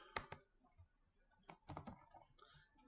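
Keys on a computer keyboard are typed in irregular bursts of clicks, close and fairly quiet, with a few louder clustered strokes and no talking.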